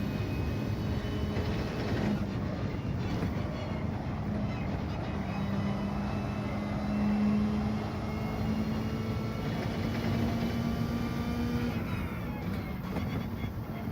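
A Mazda Atenza racing at Dragon Trail Gardens in Gran Turismo 7 produces a continuous engine drone with slowly rising pitch through the gears, steady and fairly loud, with faint talk underneath.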